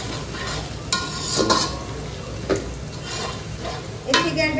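Onions frying in a pan while a home cook stirs, a steady soft sizzle broken by a few sharp scrapes and clinks of the spoon against the metal.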